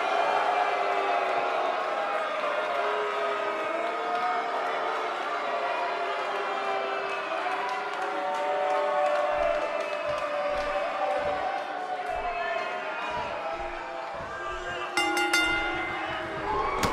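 Arena crowd in the WWE 2K18 wrestling video game, a steady loud roar of cheering and babble filling the whole stretch, with a few sharper whoops and bursts near the end.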